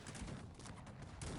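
Musket volleys in the Cossacks 3 strategy game, a multiplayer battle, with several muffled distant shots cracking in quick succession over a dense rumbling battlefield din.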